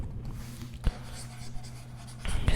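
Handwritten numbers scratching onto paper during a maths multiplication, a steady soft pen-on-paper scrape with a sharper stroke near the start and heavier strokes toward the end, close and alone.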